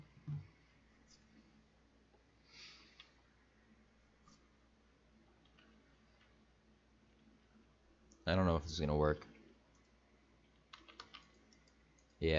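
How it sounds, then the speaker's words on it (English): A computer mouse clicks faintly several times while a person talks quietly nearby, with a few louder bursts of speech. "I'm clicking and nothing is happening"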